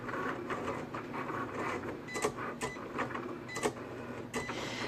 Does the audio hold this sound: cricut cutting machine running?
yes